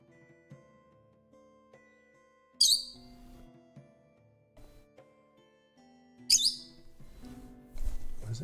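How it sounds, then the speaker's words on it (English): Two sharp bird squawks ring out several seconds apart over a quiet background of tones and low murmurs, with a rumbling noise toward the end. "it sounded like a bird outside"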